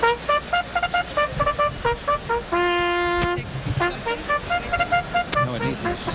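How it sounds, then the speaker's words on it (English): Bugle call played by a bugler at Belmont Park before the Belmont Stakes, a series of short bright toots followed by one long held note, then more brief notes amid crowd noise and nearby voices. "We'll be hearing the bugler, Mark O'Keefe, just about now."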